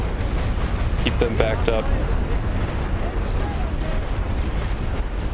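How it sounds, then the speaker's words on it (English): Artillery fire in the World War One strategy video game The Great War: Western Front, a loud continuous rumble of distant blasts and booms, with a voice speaking briefly over it. "I'm just going to drop as much artillery into this area as I can"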